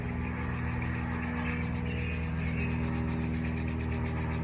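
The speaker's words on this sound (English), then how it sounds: "we go forward with rubbing our hands together" Two hands rub briskly together to warm up, a close, continuous rhythmic swishing friction that holds steady throughout.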